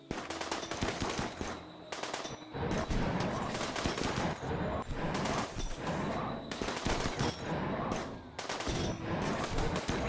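Automatic gunfire in the video game Rimworld rattles in long, rapid bursts throughout, loud and continuous with brief gaps between volleys, no voices over it.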